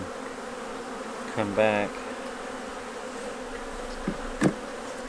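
Honeybees hum around an open hive being prepared for winter in Kentucky, a steady outdoor buzz with a few individual bees passing close and a brief voice speaking over it.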